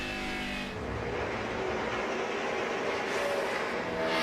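NASCAR Camping World Truck Series trucks race the final lap at the Milwaukee Mile, a steady, loud roar of engines sweeping past and building slightly toward the end, with no talk.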